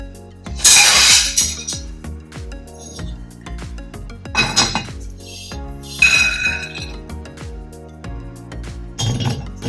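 Utensils clink against a dish as cooked sabudana is moved into another bowl, four separate bright metallic clatters with ringing tails spread over several seconds, close and fairly loud.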